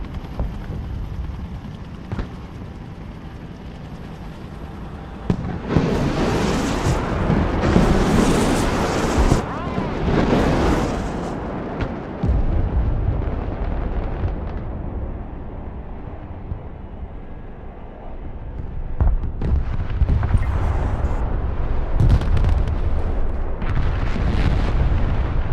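Repeated MLRS rocket artillery salvos in the Broken Arrow strategy game, loud roaring launches and booming explosions that surge and fade over rushing wind-like noise, with a voice talking intermittently.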